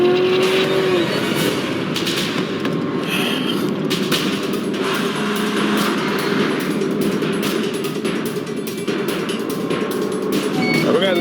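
A car rolls along a narrow, bumpy back road in Alaska, a steady loud engine and road rumble with rattles and thumps from the rough surface throughout.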